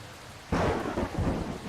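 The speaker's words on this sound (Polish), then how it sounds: "Widzieliście, gdzie piorun leżył? W dach." Thunderclap and downpour during a storm in the farming video game Farmer's Life, a sudden loud crack bursting over steady rain hiss and rumbling on, no voices.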